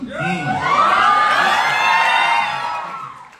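A group of trainees at a boot camp in Jim Corbett shouts answers loudly in unison, one sustained collective yell that swells and then fades over about three seconds.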